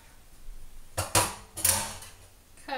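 Utensil clinks and scrapes against a bowl while a warm cranberry raw-food dressing is mixed, a few sharp knocks in a short cluster, close and clear with no talking.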